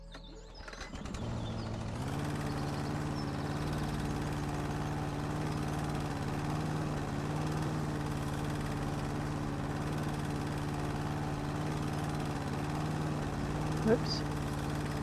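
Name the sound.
lawn mower running in House Flipper video game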